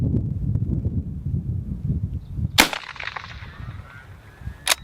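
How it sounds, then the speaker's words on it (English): A rifle shot from an Enfield No. 4 fires with a loud crack, then a ricochet whines away in a thin, descending tone. Wind and low rumble run underneath, and a second crack comes at the end. "You hear the ricochet?"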